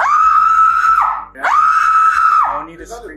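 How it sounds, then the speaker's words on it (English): A woman lets out two long, loud, high-pitched screams close by, each held for about a second with a brief break between them, trailing off into a quieter vocal sound. "No need to scream."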